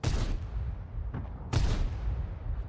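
A tank's main gun fires twice during a World of Tanks-style battle with the ELC EVEN 90 and T92. Each shot lands as a loud, sharp boom with a rolling low tail, the second stronger, over a steady rumble of engine and battlefield noise.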